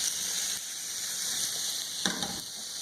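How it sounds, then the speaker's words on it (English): Strips of bacon fry in a seasoned cast iron skillet with a steady, close sizzle and hiss, broken by a brief louder crackle as more bacon drops into the hot fat. "The best part about cooking bacon in the cast iron skillet is it pretty much keeps the season on your skillet running strong."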